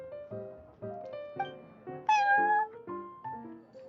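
Cat meowing in the video game Genshin Impact, at the Cat's Tail tavern: a series of short, close meows followed by a longer, higher drawn-out cry, with no talk.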